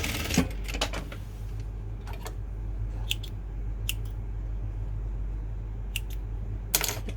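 Sewing machine stitching a back-and-forth reinforcement seam on a skirt, with short sharp mechanical clicks and taps at irregular intervals over a low steady hum, close by and without speech.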